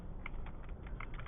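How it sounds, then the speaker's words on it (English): A computer keyboard being typed on, a quick run of light key clicks close to the microphone, several presses in a row without talking. "I hit F8 on the keyboard"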